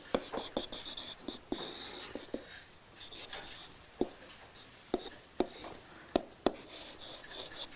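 A marker draws by hand across a board, giving a series of squeaky scratching strokes with sharp taps between them, close and fairly quiet, with no talk.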